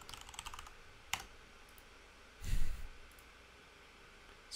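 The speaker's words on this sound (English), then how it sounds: "and then we type in the password" A run of computer keyboard keystrokes at the root login of a VMware ESX Server 2 system, as a password is typed: quick, light clicks in a short burst, followed by a lone click and a soft rustling thump.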